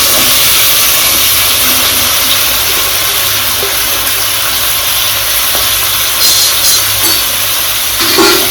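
Vegetables such as peas and other chopped vegetables with turmeric sautéing in a pan for bisibelebath, giving a steady close hiss and sizzle that runs unbroken throughout with no talk.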